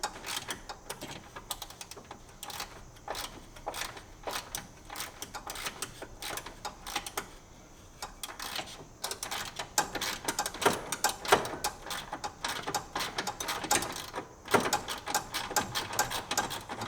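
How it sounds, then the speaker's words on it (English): Rapid mechanical clicking from a ratchet during a Mazda Miata timing belt replacement, coming in irregular bursts of sharp ticks that repeat through the stretch at moderate, close-up volume. "this ratchet sucks."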